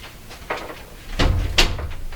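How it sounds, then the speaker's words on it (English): Workshop shop door swinging shut, a few light knocks and rattles followed by a firmer thud of the door closing, close by and alone. "close my shop door and keep the cats out of here"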